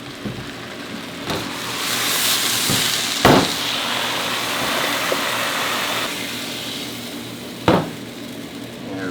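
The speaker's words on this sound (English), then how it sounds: "Okay, so I'll blend these up while they're still hot." A blender purées hot jalapeños in a steady, loud whirring roar with a breathy hiss that runs for most of the stretch, broken by a few sharp knocks.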